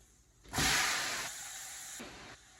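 Garlic dropped into a pan of softening tomatoes in an egg and tomato stir-fry, bursting into a loud, close sizzle that swells suddenly, then settles to a steadier hiss before easing off.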